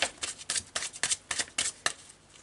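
A deck of Tarot de Marseille cards is shuffled by hand, giving about a dozen quick, crisp riffling slaps in an even rhythm. The sound is close and clear, with no talking.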